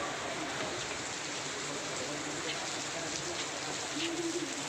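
Steady rain falls outdoors in a continuous dense hiss, with a faint bird coo or call toward the end and no clear voices.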